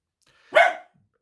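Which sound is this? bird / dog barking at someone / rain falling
dog barking at someone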